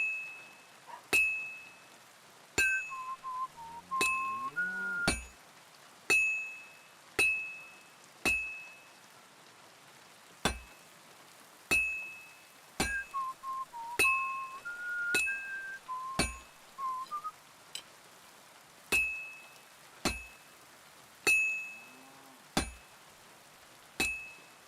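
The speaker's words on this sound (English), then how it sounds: "I have to hammer it more evenly." Metal hammering at a smithing anvil in the video game Kingdom Come Deliverance 2: a steady series of sharp, ringing hammer strikes about a second apart, with brief clusters and soft tonal game cues between them, no talk.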